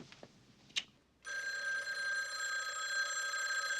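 A telephone bell in the 1989 film When Harry Met Sally starts ringing after a second of quiet room noise and a few faint knocks, then rings continuously and loudly.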